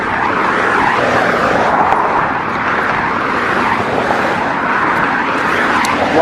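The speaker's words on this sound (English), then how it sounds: "Lots of planes taking off and landing at the Sky Harbour" Aircraft near Phoenix Sky Harbor airport, a busy US airport, form a steady broad roar of jet engines during takeoffs and landings, loud and continuous with no break.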